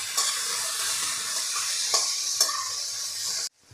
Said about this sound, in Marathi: आपल्याला चवीपुरतं मीठ आणि आपल्याला हे परतून घ्यायचं आहे